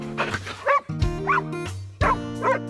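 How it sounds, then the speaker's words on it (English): Dogs barking in a short rhythmic sequence of three paired woofs, prominent and fairly close, over a steady musical backing with no talk. "my dogs are barking in the back"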